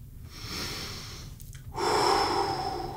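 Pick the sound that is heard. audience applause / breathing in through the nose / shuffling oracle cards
breathing in through the nose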